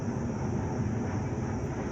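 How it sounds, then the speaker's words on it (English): An airplane passes overhead above a garden, a steady, full broadband roar that holds loud and even throughout with no other sounds over it. "Right when I'm starting to talk, we have an airplane"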